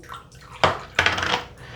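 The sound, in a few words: making shaving soap lather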